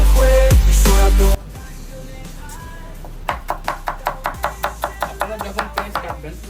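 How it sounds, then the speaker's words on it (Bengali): Onions being finely chopped with a knife on a board for a Bangladeshi beef curry, a quick run of about a dozen evenly spaced crisp knocks that follows louder speech and music at the start. "আপনারা যখন পেঁয়াজ কাটবেন এভাবে কুচি কুচি হইতে হবে"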